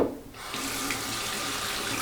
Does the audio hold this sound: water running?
yes